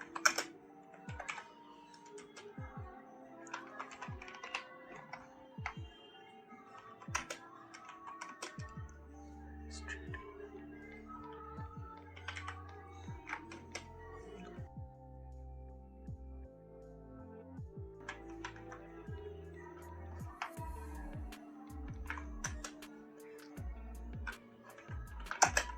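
Rapid clicking of a computer keyboard while entering company details in Tally Prime accounting software, bursts of quick keystrokes with short pauses, close and fairly quiet.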